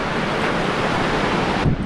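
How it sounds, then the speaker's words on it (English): Ocean surf rolling onto the sand at Byron Bay, a steady broad wash of breaking waves with wind noise buffeting the microphone, loud and continuous throughout. "Don't those waves look beautiful?"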